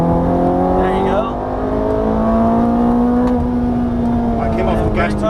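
Ferrari F430 on a racetrack pulling out of a corner, its engine note climbing steadily and loud from close by, with brief talk over it.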